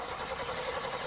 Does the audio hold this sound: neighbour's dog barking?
no